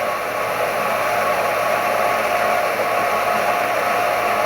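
A 50-to-60-year-old milling machine's spindle runs steadily, a continuous close broadband whir with a faint mechanical hum underneath, loud and unchanging throughout, no voices.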